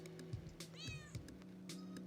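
A regular cat meows a few times in the video game Super Lesbian Animal RPG, short clear mews over a quiet hum of game music.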